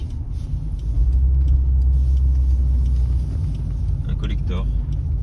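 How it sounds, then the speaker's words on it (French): A Toyota Supra mk3 with a 3.0 turbo six-cylinder engine runs with a muffled, deep, steady rumble inside the car, and someone talks over it. "le bruit du 6 cylindres, feutré comme ça, il n'y a pas de ligne, il n'y a rien du tout, c'est vraiment son hein, non édulcoré"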